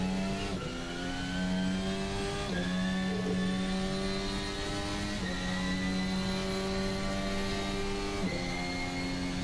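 A Formula Alpha race car engine from Virtual Racing Cars howls continuously in the Assetto Corsa sim, with a few quick gear changes breaking the steady high-revving whine. It stays loud, close and unaccompanied by voices.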